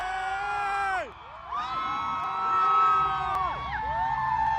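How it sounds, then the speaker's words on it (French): A packed cinema audience screams, whoops and cheers at Shah Rukh Khan's entrance in Pathaan, a loud continuous roar with rising and falling shrieks and whistles throughout. "ils ont commencé à crier, c'était le feu dans la salle"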